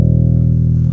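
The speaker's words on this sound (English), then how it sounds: "So this is the sound of our bass guitar." Benston 24-fret budget bass guitar played direct through an audio interface: one sustained, full low note rings steadily for about a second and then cuts off, with no talking over it.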